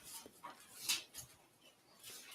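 A husky-type dog whimpers softly with short panting breaths, close by in a quiet basement room, the small whines coming in brief scattered bursts.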